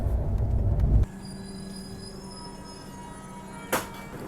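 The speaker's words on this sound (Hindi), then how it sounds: "जहाँ ट्रेन 50-60 की रफ्तार में चल रही थी अब वो ट्रेन आराम से 110 की रफ्तार में चल रही है" A Jharkhand Swarna Jayanti Express train running at about 110 km/h, with a heavy rumble that gives way to a steady hum of rolling wheels. Thin squealing tones run through it, and a brief clank comes near the end.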